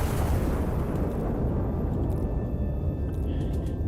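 An artillery gun firing high-explosive shells in a modern video game; a sustained, heavy low rumble with rolling booms filling the whole stretch, loud and continuous, with faint high tones in the background.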